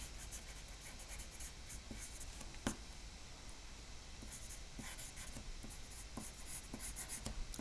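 Pencil scratching on paper to draw wisps and ringlets of hair, quiet close strokes with short rhythmic scribbles and occasional sharper taps, no voice.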